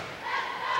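High school basketball game crowd in a gym, a brief swell of cheering and shouting voices, fairly loud and diffuse, rising slightly toward the end of under a second.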